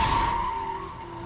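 A car with a flat tyre skids inside a tunnel, a loud sustained screech with a steady high whine that slowly fades over about a second.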